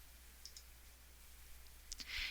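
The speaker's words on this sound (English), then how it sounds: "And then by right mouse clicking," Faint clicks from a computer mouse being right-clicked, a few light taps against a quiet background.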